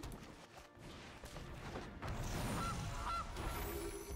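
Goose honking from a card played in the digital card game MTG Arena, two short honks rising over busy game sound effects and a low rumble.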